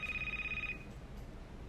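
A telephone rings in a Korean talk-show studio: a short, bright electronic trill lasts under a second and then cuts off, leaving quiet room tone.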